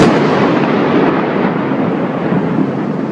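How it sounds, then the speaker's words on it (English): Thunder from a lightning strike, a loud broad rumbling roar that fills the whole span and holds steady without talk. "here is the video, the clip from the lightning that people have been talking about"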